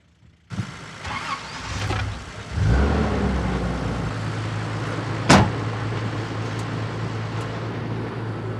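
A Toyota Land Cruiser on a heritage trip in Botswana's Kalahari starts up at sunrise. A thump is followed by the engine catching and settling into a steady, close idle and pull-away drone, with a sharp clunk partway through.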